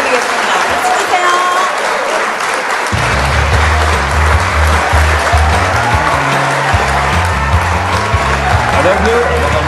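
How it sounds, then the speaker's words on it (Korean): Loud, continuous crowd applause at an outdoor song festival at Taebaeksan, with a steady musical intro joining under the clapping after a few seconds. "박수 주세요"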